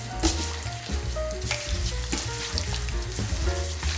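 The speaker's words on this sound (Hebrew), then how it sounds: "מערבבים את המרינדה" Korean fried chicken marinade of soy sauce being stirred in a bowl, a steady close wet churning and clicking texture with a dense, continuous rhythm and no voices.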